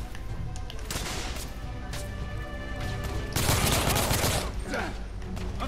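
Gunfire in the video game The Order: 1886, dense volleys of shots and impacts, loud and continuous, growing heavier toward the middle.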